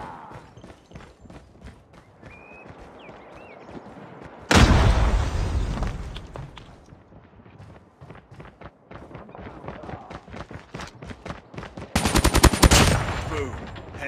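Call of Duty Mobile firefight with rapid, close automatic gunfire in rhythmic bursts, a loud blast near the middle, then more sustained shooting and a final heavy burst.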